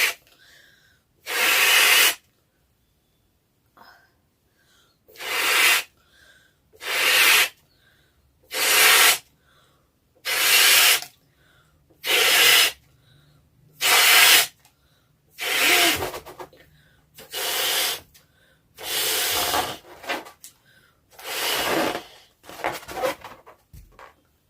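Breath pushed in strong, hissing puffs into a long Indian balloon, about a dozen separate blows of one to two seconds each with short silent gaps between them, close and loud.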